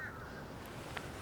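Crows by the water at Dyke Marsh Wildlife Preserve near the Mount Vernon Trail give a faint, brief call against a quiet outdoor background of low rumble.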